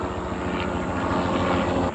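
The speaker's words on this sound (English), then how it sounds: "There is like a second helicopter coming right there in the" Helicopter flying overhead, a steady loud rotor drone with rhythmic low thumping that fills the whole stretch without any break, no talking.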